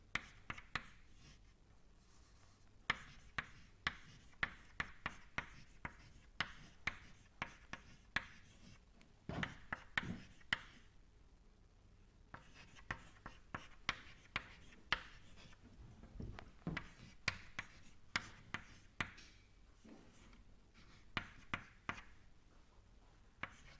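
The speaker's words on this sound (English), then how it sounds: "Then I am just writing all the terms in the governing equation." Pen writing out equation terms during a fluid mechanics lecture on unsteady Navier-Stokes solutions: steady scratching strokes with frequent small taps, close and fairly quiet, pausing briefly between bursts, no voices.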